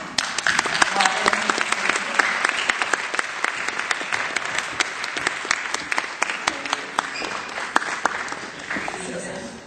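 A conference audience at Adtech Tokyo 2010 applauds to welcome a keynote speaker. Sustained, even clapping from a large crowd fills the hall without a break.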